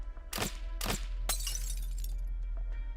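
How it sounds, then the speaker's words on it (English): Streetlight glass shattering in the Arknights video game, two sharp breaking cracks followed by a bigger crash that trails off into scattered tinkling shards, loud and close with no talking. "Did she shatter the streetlight?"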